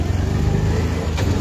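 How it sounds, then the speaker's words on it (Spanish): Close, steady engine drone of a mototaxi being ridden along a street in Livingston, Guatemala, a continuous mid-pitched motor hum with a brief rasp near the end. "Cambiándole de rutina a bordo de una mototaxi"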